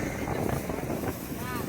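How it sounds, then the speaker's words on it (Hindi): Wind blows outdoors as a steady, low rumble buffeting the microphone, with voices faintly present beneath it. "सच में मस्त हवा चल रही है"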